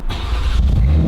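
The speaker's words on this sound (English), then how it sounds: "This thing has 800 horsepower, and it sounds like this." A loud 800-horsepower car engine rumbles close by with a deep, heavy growl and a steady, forceful roar throughout.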